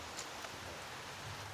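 Steady rain falling outdoors on Thanksgiving, a dense even hiss with faint patters, heard alone at moderate volume.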